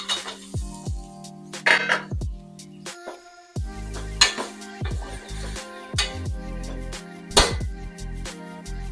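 Taro root pieces dropped into a cooking pot, heard as several close clinks and knocks of utensils against the pan with short gaps between them and no talk.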